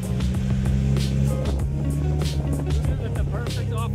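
A Mazda Miata drives off-road, its engine droning loudly and continuously with shifting pitch, close up, along with rumbling and rattling from the rough terrain.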